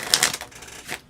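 A deck of board game cards is shuffled by hand at a tabletop game, giving a close, crisp riffling flutter with a couple of louder snaps and no talk over it.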